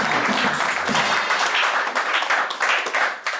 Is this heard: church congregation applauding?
yes